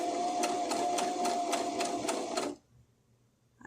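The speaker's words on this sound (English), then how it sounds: "So now I'm going to sew very slowly" A sewing machine stitching a button on slowly with a button sewing foot, giving about eight even, evenly spaced stitch beats. It runs close and steady, then stops abruptly, leaving near silence.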